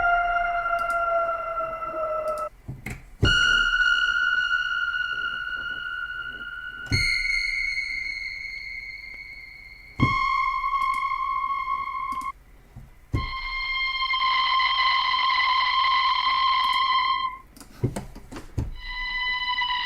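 Synth sounds from Ava Music Group's Eminence library play one after another, with bright sustained tones, pitch bends and abrupt sharp hits. Each new sound cuts in suddenly and rings clearly with no talking.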